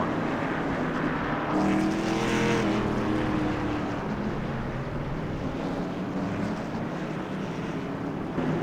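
NASCAR trucks racing at Charlotte Motor Speedway in iRacing make a continuous broad engine rumble with wind-like rushing noise, a brief louder swell early on, then a steady drone.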